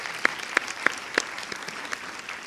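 A small audience gives sparse, scattered applause at a Spanish-language talk on same-sex marriage rights, just a handful of distinct claps ringing out in an otherwise quiet room.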